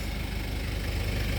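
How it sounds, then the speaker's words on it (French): A 1995 Toyota Hilux Surf with a 3-litre 1KZ-TE turbo diesel idling close by, a steady, even low rumble with a faint diesel clatter and no other sounds. "avec un moteur 3 litres turbo diesel, le 1KZ TE"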